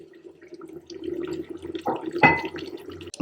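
Water is poured into a pot of chicken and cut vegetables cooking Jordanian style, a soft splashing pour that rises into a brief gush and then trickles, close and fairly quiet over a low hum.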